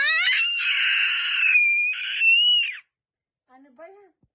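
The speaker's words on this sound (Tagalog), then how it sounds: "Tili ka ng tili." A child screams in long, piercing, sustained shrieks that rise and waver for nearly three seconds, then stops, after which a few short, faint squeaky vocal bits follow.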